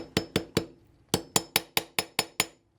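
A hammer taps a 1/8 inch punch into a Mossberg MC1sc/MC2c pistol slide during a trigger spring kit install: three crisp, close metallic taps, a brief pause, then seven quicker taps in a steady rhythm.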